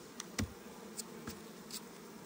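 Honeybees buzzing in a hive during a spring inspection. A soft, steady hum carries throughout, broken by a few brief clicks and knocks from handling the hive.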